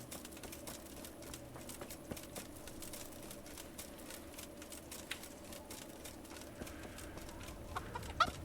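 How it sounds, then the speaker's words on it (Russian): Chickens cluck softly in a medieval village in the game Kingdom Come: Deliverance, faint and somewhat distant, set against a low ambient background with scattered small clicks and no speech. "Курицы."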